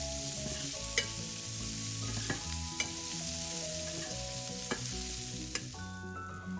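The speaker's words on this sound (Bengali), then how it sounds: "এরপর পেঁয়াজগুলোকে কিছুক্ষণ ভেজে নিয়েছি।" Chopped onions frying in a pan, with a steady close sizzle and repeated scraping stirs from a utensil throughout, no voices.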